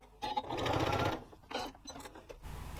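A sewing machine runs stitching through fabric in a quick rattling burst, stops, then gives a shorter run, with small clicks and handling noises between.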